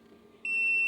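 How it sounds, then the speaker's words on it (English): An incubator's low-temperature alarm sounds a single shrill electronic tone that begins partway through and holds steady and loud over a faint background hum, with no talk. "that's the alert that the temperature is low"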